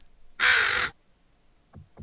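A crow in the Nancy Drew game caws once, loud and close, a harsh half-second call, followed by faint low knocks.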